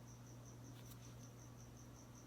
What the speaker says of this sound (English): I don't know what that cricket's doing